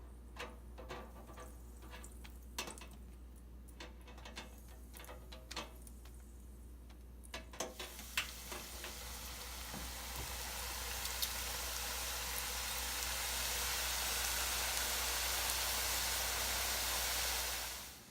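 Tortilla chips dropped into hot, preheated cooking oil, starting with light ticks and crackles and swelling after about eight seconds into a steady, loud sizzling hiss that holds to the end.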